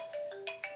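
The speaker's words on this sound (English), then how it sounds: "That phone ringing right now is what happens here quite often." A telephone rings in a live radio studio, a bright repeating electronic ringtone trilling in short bursts, fairly quiet with no talk over it.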